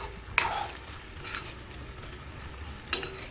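Cooked chicken reheats in a pan with a soft, steady sizzle, broken by a few sharp scraping stirs of a utensil against the pan, the first near the start and the last near the end.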